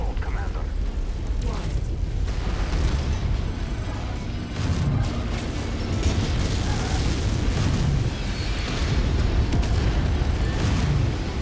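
A destroyed mech blowing up in MechWarrior 5 video game, a sustained loud rumbling explosion with crackling bursts lasting several seconds, heavy low-end roar filling the scene beneath game noise.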